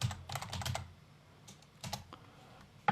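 Someone types a layer name on a computer keyboard, a quick burst of clicking keystrokes followed by a pause and then a few scattered taps, close and fairly quiet, with no voice.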